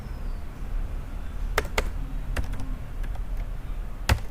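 Computer keyboard typing in short bursts, a few sharp separate keystrokes with pauses between them, close and fairly quiet over a low steady room hum with no voices.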